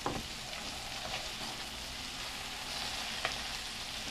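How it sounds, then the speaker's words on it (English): Food frying in oil in a pan sizzles in a dense, steady hiss, close and moderately loud, with a few faint scrapes of stirring. "And now we stir a little bit more."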